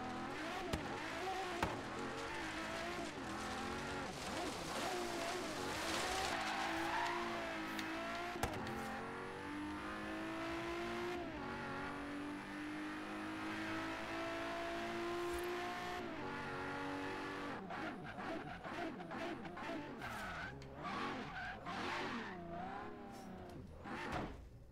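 Cars racing down a drag strip in Forza Horizon 3, with engines revving and climbing through the gears, loud and sustained, a passing whoosh and brief tire noise breaking it up toward the end, and no talking.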